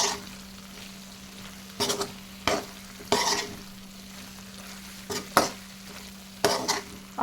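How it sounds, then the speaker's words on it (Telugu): Prawns coated in garam masala powder are stirred in an oily pan for a prawn fry, giving about five short scraping, sizzling bursts over a steady low hum. "గరం మసాలా కూడా చక్కగా మిక్స్ చేసేసుకోండి రొయ్యలకు పట్టేలా"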